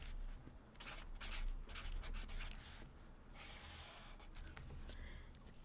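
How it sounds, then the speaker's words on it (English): A green marker writes in a bullet journal, short quiet scratchy strokes in bursts with brief pauses between them, close up and faint. "So I'm going to use a green marker for March. I'm just going to write the month up here in the corner."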